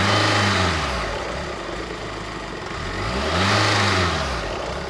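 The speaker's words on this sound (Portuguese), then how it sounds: "Nota que com o veículo acelerando o veículo" A car engine revs up twice as the vehicle accelerates, pitch sweeping upward then falling back between rises, a loud steady roar close by with no speech.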